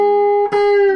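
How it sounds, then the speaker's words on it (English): A single loud, sustained electric guitar note rings on the second string, pushed into a long bend, with a brief pick or fret noise midway, heard alone. "Except you're going to bend it a really long way"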